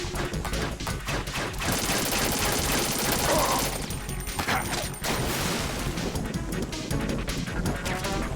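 Sustained rapid gunfire while fighting a boss in Metal Gear Solid 2, with dense, loud bursts of shots and crashing impacts running almost continuously throughout.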